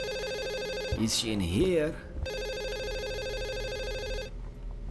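An old telephone rings continuously in a horror video game, a steady electronic trill that starts after a brief spoken question and a swell of eerie sound, then keeps ringing alone before cutting off near the end.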